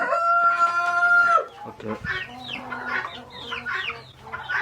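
Chickens in a farmyard, one crowing loudly nearby before a flurry of rapid clucks and squawks from several birds, with a brief spoken word mixed in.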